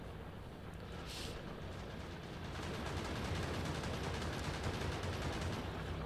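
Continuous distant gunfire from defensive guns in Factorio, a dense rattling roar of overlapping shots that builds slightly and holds steady throughout.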